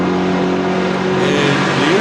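EuroV8 Series race cars, including a Mercedes, racing at Monza: a loud, close engine roar with a rising rev and harmonic whine, steady and dense throughout.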